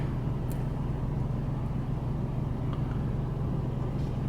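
A Ford F150 XLT engine with a hesitation fault runs as a steady, loud low rumble throughout, with no clear rise in pitch.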